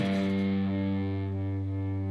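A single distorted electric guitar note on the 4th fret of the low E string, struck with an upstroke, rings out steadily with effects and sustains alone until its brightness fades.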